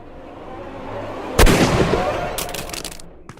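A single loud, sharp gunshot cracks out partway through a Sherlock Holmes: Crimes & Punishments game scene, ringing off into a decaying tail, with a few fainter crackling bursts following near the end.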